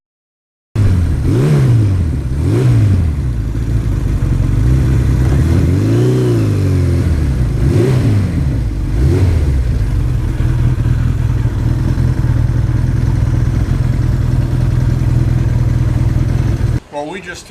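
A 1982 Suzuki GS1100E motorcycle engine revs up and down through several rising and falling pulls before settling into a steady, loud drone, riding close throughout on a country road.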